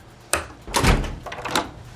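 A door in a TV episode of The Office closes with a firm thunk, followed by a bright metallic clack of the lock and a shorter click after it.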